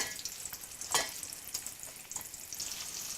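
A crumbed pork fillet frying in a pan sizzles and crackles steadily at moderate volume, with a few sharper pops and a brief louder burst near the start.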